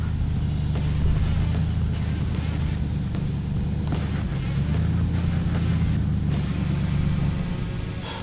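A 4WD crawls slowly over a rough track toward a waterfall, its engine a steady low rumble with continuous bumps and knocks from the terrain, loud and close throughout.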